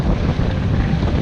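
A sailboat motoring at about 7 knots with its engine on and half the jib out, heard as a steady roar of wind buffeting the microphone mixed with rushing water along the hull.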